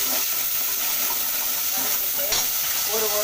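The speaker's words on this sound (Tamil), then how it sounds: "ஒரு தக்காளி, ஒரு வெங்காயம் சும்மா வதக்கிறதுக்கு மட்டும் போட்டிருக்கேன்" Onion, tomato and curry leaves sauté in a hot pan for a vegetable kurma, with close, continuous sizzling and frying hiss broken by occasional stirring scrapes.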